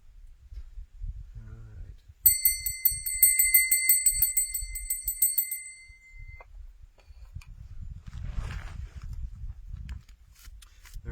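A small handbell rings in rapid repeated strikes for about three seconds, bright and near, then fades, with quiet rustling and handling noise before and after.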